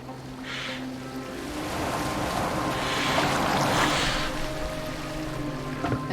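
A longboat is rowed across open water in Assassin's Creed Valhalla, with a soft wash of waves and wind rising and falling around a low steady hum.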